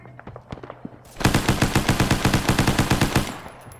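Automatic gunfire in the military game Arma bursts in after a few scattered shots, a rapid loud rhythmic string of rounds lasting about two seconds, close with no talk.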